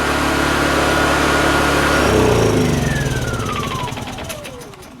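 A Honda EU2 portable generator's small engine runs loud and steady as it warms up with the choke off, its tone shifting midway and then easing off, with no talking.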